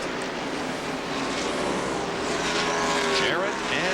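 NASCAR stock cars racing at Darlington Raceway in the 1993 Transouth Financial 500, a loud steady engine roar with a rising then falling whine as cars pass close by, under commentary.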